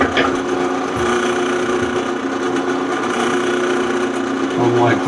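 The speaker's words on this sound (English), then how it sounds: "See, it drills pretty easy and it goes right straight to" A drill boring into the case of an air-cooled VW Type 3 engine, a steady close whir with a constant pitched tone running throughout, rising in bursts near the start and end.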